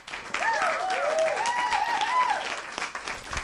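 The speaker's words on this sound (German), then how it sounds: "Auch für dich natürlich einen herzlichen Applaus." Studio audience applause during a German fishing podcast recording, a steady burst of clapping lasting about three seconds with speech-like tones mixed over it.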